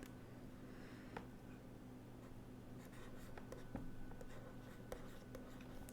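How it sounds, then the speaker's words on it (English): A pen scratches softly across paper as a math formula for circle areas is written out, faint strokes and light taps close by over a quiet hum. "So, I am writing the final formula now"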